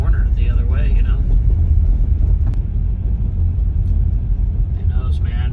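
A Tesla Model Y towing a camper rolls slowly at about 14 mph, a constant low road rumble inside the cabin with someone talking over it in stretches.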